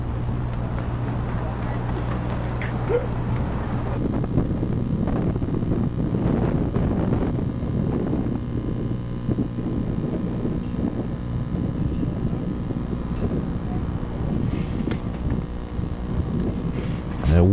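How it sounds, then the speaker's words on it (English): Stiff wind blowing straight out toward center field at a high school baseball game, a steady roaring rumble buffeting the microphone throughout with a few faint background sounds. "There you see how stiff that wind is blowing"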